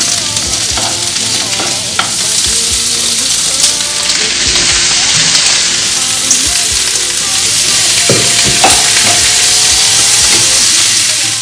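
Peppers and onions sizzle steadily in a pan, cooking in their own juices for a plant-based gazpacho, a loud continuous frying hiss broken by occasional stirring scrapes and clinks.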